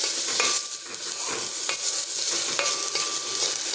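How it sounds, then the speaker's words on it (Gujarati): Rice grains sizzling in hot ghee while being stirred in a pan for rice kheer, a steady dense crackle with occasional scraping strokes, close and continuous throughout. "તો આપણે અહીંયા 30 સેકન્ડ જેટલા ચોખાને ઘીમાં સાતળી લેવાના છે"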